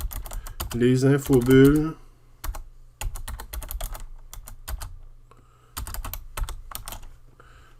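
Crisp computer keyboard keystrokes come in quick bursts and pauses, close and dry, with someone speaking briefly near the start.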